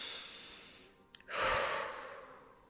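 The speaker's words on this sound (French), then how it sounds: "Prenez une bonne inspiration et une bonne expiration pour vous dynamiser" A deep breath is drawn in and let out during a sophrology relaxation session, a single slow, close, airy exhalation that swells and gradually fades, with no talking.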